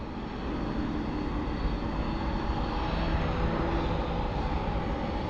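UPS MD-11 airliner starting its takeoff roll, engines spooling up into a steady, loud, broadband roar that holds throughout with a constant low rumble.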